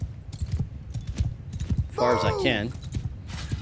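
Horses gallop in a medieval battle in Mount & Blade II Bannerlord, rapid hoofbeats drumming continuously with a loud whinny in the middle, while a player talks over the action.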